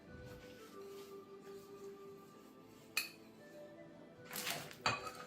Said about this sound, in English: I'm going to peel the eggs, and I'm going to slice them in half now.